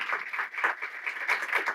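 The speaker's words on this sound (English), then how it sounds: "you just clapped for me" Audience applause greeting Miss Evelyn Diaz at an equity conversation event, a steady dense clapping from a crowd that holds throughout without speech.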